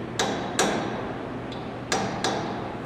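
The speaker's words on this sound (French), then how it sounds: "l'ajuster à l'aide d'un marteau de positionnement avec le bout du marteau en laiton" A brass-tipped positioning hammer taps a workpiece held in a four-jaw lathe chuck during centering: five crisp, close metallic knocks in uneven pairs, one noticeably lighter, over a quiet background hum.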